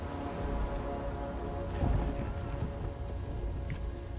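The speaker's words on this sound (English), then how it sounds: "So that's thunder." Steady rain pours during a thunderstorm in a Knight of the Seven Kingdoms episode, with a low rumble of thunder swelling midway through a dense, continuous wash of sound.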